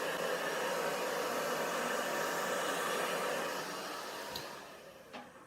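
A hair dryer blows steadily over acrylic pour paint on a tile coaster, a constant airy whoosh that holds level, then eases slightly softer near the end, with a couple of faint knocks.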